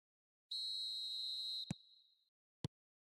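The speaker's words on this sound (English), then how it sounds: "There's the whistle, and here we go." A referee's whistle in the eFootball 2025 football video game gives one long shrill blast of about a second, followed by two sharp clicks, clear and alone with no talk.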